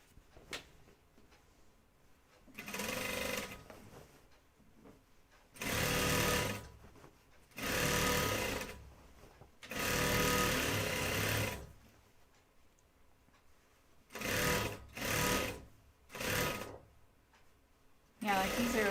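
A sewing machine stitches a Blanca flight suit in several bursts of a few seconds each, with short pauses between them and a voice talking quietly in the gaps.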